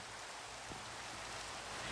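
Acid rain in the Hypixel Disasters Minecraft game mode, a steady, faint hiss of rainfall pattering continuously without any voices.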